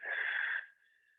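Breath during a beginner Pilates stretch, a soft airy exhale with a whistling wheezy edge that fades out quietly after about half a second.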